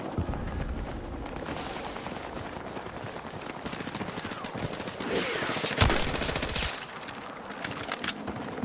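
Sustained automatic gunfire in the shooter Battlefield 6, a dense, loud, rapid rattle of shots running for several seconds with a brief heavier burst near the end, close and continuous with no talk over it.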